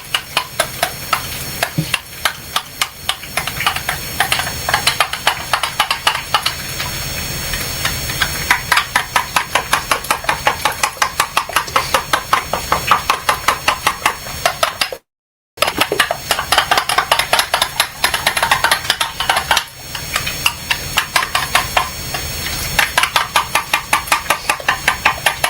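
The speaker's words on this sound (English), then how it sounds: "Let's stir all this together." A ketchup and pepper mixture is stirred in a bowl, giving a long run of rapid, regular scraping and clicking strokes, loud and close, with a brief break midway and no talk.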